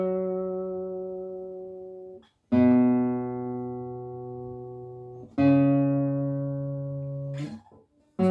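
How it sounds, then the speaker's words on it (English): A guitar note on the fifth string at the ninth fret, played with vibrato and plucked three times in a row, each note ringing clear and close for a couple of seconds before slowly fading. "But listen to the difference when you add vibrato"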